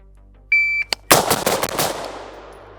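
A short electronic beep comes first, then a rapid burst of AR-15 rifle shots fired at a range target, loud and close, with the cracks ringing out and fading.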